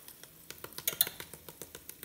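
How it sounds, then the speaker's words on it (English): Crispy skin on air-fried turkey legs with Creole seasoning crackles close up in a series of sharp, light, irregular crunches and clicks, fairly quiet with no talking. "You can hear how crispy that skin is."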